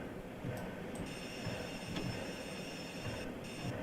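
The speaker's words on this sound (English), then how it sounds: "I'm just rolling the Standard 4 down the hill" A Standard 4 steam locomotive coasting downhill in a train simulator game on a West Highland line, producing a continuous rolling rumble of wheels on track, with faint high whines and clicks and no talking.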